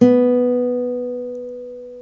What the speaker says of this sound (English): that's the B note, and it should sound like this.